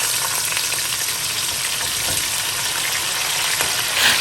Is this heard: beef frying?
yes